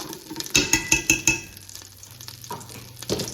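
Tomato paste worked into hot olive oil in a pot, with a quick run of sharp spoon scrapes and taps against the pot over a soft, low sizzle, then quieter stirring.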